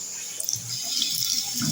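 Tap water runs steadily into a sink as a constant hiss and splash at moderate level, with faint low knocks and thuds underneath.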